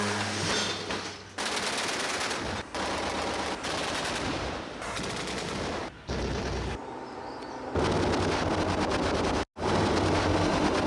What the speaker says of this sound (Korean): 이를 탐지한 비호복합이 30mm 대공포를 발사합니다.